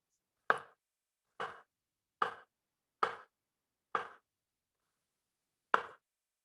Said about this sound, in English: So you can just go ahead and cut that into your rounds.